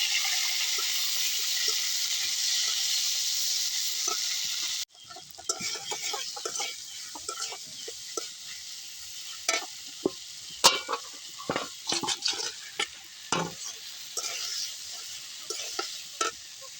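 Fish with tomato and greens cooking in a pan, a steady loud frying sizzle for the first few seconds, then intermittent sizzling with scattered stirring clatter and scraping, with no talk.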